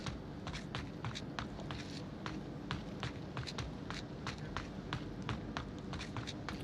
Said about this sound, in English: they heard the footsteps above him